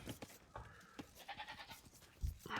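Sheep in the Age of Empires strategy game bleat in short, faint bursts amid soft in-game clicks and effects.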